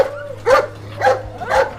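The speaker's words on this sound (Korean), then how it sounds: "근처에서 개 짖는 소리가 들려오고" Three short dog barks ring out at even intervals, each a rough yelping burst carried over a steady low hum, from a dog somewhere near a house in a crime drama.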